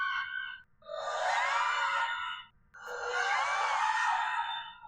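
Banshee ghost in Phasmophobia letting out two long, wailing screams from a sound recorder, loud and anguished with wavering pitch, separated by a brief pause, with no talking.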